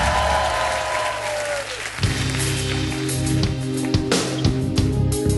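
A live TV singing-show audience applauds and cheers for the singer, a dense, loud wash of clapping that carries on steadily as band instruments start up underneath.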